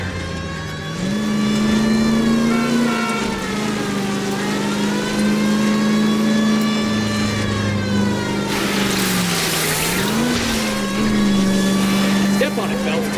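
A car engine revs hard and steady through a chase in the L.A. Noire video game, its pitch sliding up and down as the driver accelerates, with a brief surge of rushing noise midway and voices talking over it.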